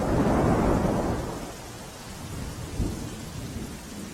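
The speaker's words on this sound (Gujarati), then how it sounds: "જિલ્લાના કેટલાક વિસ્તારમાં ધીમી ધારે વરસાદ શરૂ થયો" Rain falling across Bhavnagar, Gujarat, returning after a break as a light, steady shower: a dense, even hiss, heaviest in the first second, then settling lower, with a dull thump near the end.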